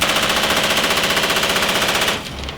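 An M240 Delta 7.62x51 belt-fed machine gun fires one sustained, rapid automatic burst, very loud and close, with a fast, even rhythm of shots that cuts off sharply near the end, leaving a brief echoing tail.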